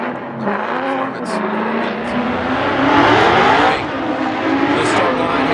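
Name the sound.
drift car with Borla exhaust at Formula Drift Irwindale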